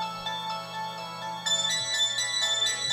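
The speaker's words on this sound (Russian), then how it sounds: "Допустим, Татьяна звонит." A phone ringtone plays for an incoming call, a bright repeating electronic melody at moderate volume with a steady rhythmic pattern.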